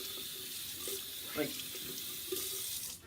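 Tap water running steadily into a sink, a constant close hiss and splash with a few faint clinks, a voice briefly speaking over it.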